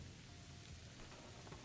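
Steady rain and wind of a storm in the survival video game The Long Dark, a dense continuous hiss that stays even throughout with no other sounds.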